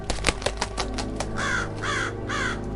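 A raven gives three harsh caws close by, spaced about half a second apart, following a few sharp taps like a beak rapping on a window, in a 1727 Lisbon setting.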